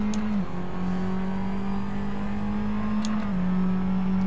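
A Formula Abarth race car engine from a racing video game, driving around Sepang, holds a steady droning hum with small pitch shifts and a brief dip as the revs change, continuous and even, with no talk.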